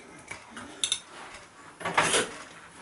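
A knife and fork scrape and clink on a plate while someone eats a Christmas dinner Pukka Pie, with a few light, sharp taps spaced apart at close range.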